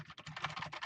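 Rapid clicking of keys on a computer keyboard, a quick run of close, quiet keystrokes with no voice.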